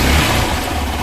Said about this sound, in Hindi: देखो मैं गाड़ी चालू कर रहा हूँ